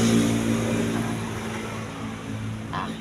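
Car engine idling or running at a steady pitch close by, a continuous low hum with a clear tonal drone. A brief noise comes near the end.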